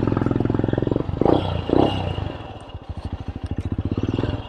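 A Royal Enfield Scram 411 motorcycle with an AEW Thunder Pipe exhaust idles close and loud, a deep, even thumping that rises in two quick revs and then settles back into a rhythmic thump.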